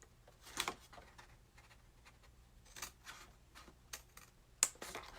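Craft knife slicing through two score lines in card while making treat boxes, a few short, quiet scratchy cuts spread over several seconds with soft rustling between.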